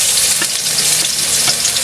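Minced garlic sizzles loudly and continuously in hot cooking oil, a close, steady frying crackle with no voices.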